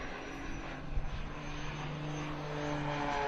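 An aerobatic airplane climbing through a Christmas tree manoeuvre at the Leszno airshow, its engine a steady distant roar with a slowly rising tone and a brief louder surge near the start.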